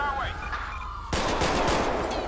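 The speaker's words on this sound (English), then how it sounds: "Shots fired on my vehicle. I'm getting shot at." Gunfire from a freeway shootout in the video game GTA 5 rattles out, a dense burst of rapid shots over steady engine rumble.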